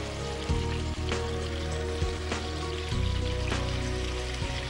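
Garlic paste and tomato paste hitting hot oil in a kitchen, giving a steady, loud sizzle and crackle with a few sharp spatula knocks scattered through it.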